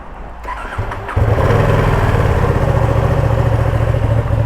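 A 2020 Ducati Panigale V2 on its standard exhaust fires up and revs, the engine catching at about one second and holding a loud, steady, close growl to the end.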